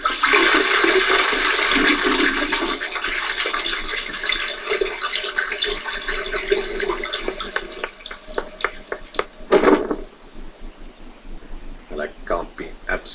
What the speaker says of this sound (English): So are we flushing the evidence, are we?